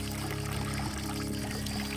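Cold water pours steadily into a container during a hot-weather road trip in Anatolia, Turkey, a continuous close splashing stream with a low hum underneath throughout.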